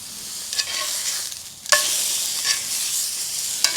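Meat frying in a warm pan over a camping firepit, a steady close sizzle with a few sharper crackles and spits; a short lull partway through before the sizzle returns, no talking.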